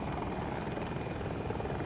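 A Battlefield 2042 aircraft roars through flight with a dense, continuous engine and rotor-like drone, loud and unbroken throughout with no voices heard.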